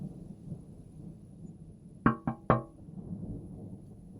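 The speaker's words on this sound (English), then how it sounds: "Valentine ignored the first knock." Three sharp knocks on a window, close and distinct in a quick uneven rhythm, against a quiet background.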